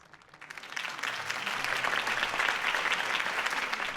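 A crowd applauds in a Batman video game scene, a dense, steady wash of clapping that swells within the first second and holds loud and even to the end, with no voices over it.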